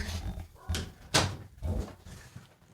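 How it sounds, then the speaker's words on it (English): An older pet dog indoors answers a noise outside with a few sharp barks spread across the moment, each followed by a thud or knock and a little background rustle. "So there's this noise that then my older dog is responding to"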